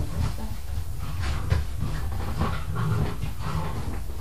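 A dog pants rapidly and continuously close by, the quick breathy rhythm sitting over a constant low rumbling background.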